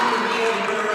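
Gym crowd noise after a made free throw in a high school girls' basketball game, a continuous moderate roar of teammates' cheers blended with a voice talking over it.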